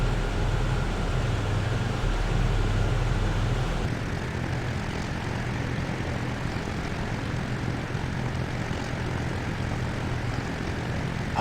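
Steady droning roar of a P-38J's twin engines and propellers in a flight simulator, cruising over the Pacific, loud and continuous with no voices.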